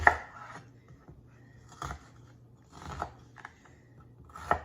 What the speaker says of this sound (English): And I forgot to chop the onions, so we'll do that now